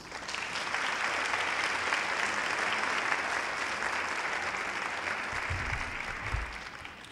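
A workshop audience applauds to welcome speaker Merlene Vassall, sustained dense clapping from many hands that holds steady, then eases slightly near the end.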